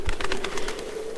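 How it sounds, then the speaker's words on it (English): Loud wingbeats of a nearby bird in the horror game Tiny Bunny, a quick burst of several close, rhythmic flaps over a faint steady tone. "A nearby bird flapped its wings loudly."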